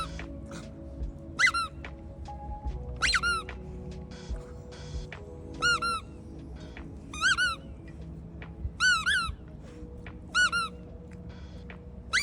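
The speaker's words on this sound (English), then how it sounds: "When the ball squeaks, watch Priscilla's tongue" A squeaky rubber dog toy ball squeaks in short sharp bursts, about seven times at irregular intervals, fairly close over a low background hum.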